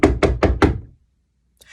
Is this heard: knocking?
yes